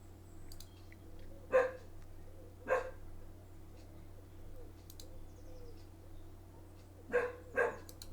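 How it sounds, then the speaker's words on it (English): A dog barks a few times at new neighbours' two dogs next door, sharp single and paired barks at a moderate distance over a steady low hum, with birds cooing faintly in between. "my dog's not used to having two dogs next door"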